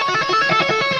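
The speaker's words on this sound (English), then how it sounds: "So the frets sound like this" A single fretted note on a distorted electric guitar from a solo, bright and sustained with a rich, buzzing harmonic tone, loud and alone for about a second.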